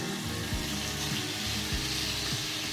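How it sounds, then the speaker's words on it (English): Steak sizzling in a hot pan, a loud continuous frying hiss with a low rhythmic thumping repeating about every half second, close and without voices. "we wanna be able to drop that steak in and hear that sizzle"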